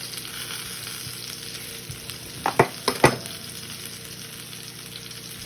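Pork chops frying in a pan for jerk pork chops, a steady sizzle running throughout with a few brief louder clatters or stirs near the middle, no voices.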